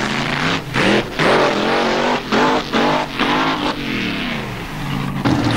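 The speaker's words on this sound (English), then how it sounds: "Here we see a rear-engine dragster called Catch-22. Running with a supercharged V8 engine behind the driver" Rear-engine supercharged V8 dragster Catch-22 blasting down the drag strip at Avon Park Raceway, a loud, close engine roaring in repeated surges as it revs through gears, harsh and dominant with no talk over it.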